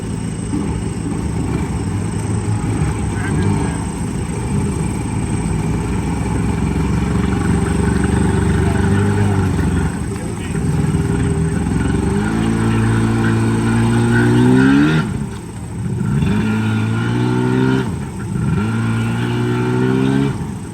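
Engine of a 1990s Yamaha jet ski revving up and down in repeated rising surges, loud and close, with a steady mechanical drone underneath.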